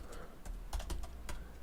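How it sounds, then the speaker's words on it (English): Keys on a computer keyboard click in a short, irregular run of separate taps, faint against a hissy background. "Now this is the part where we start typing the if statement."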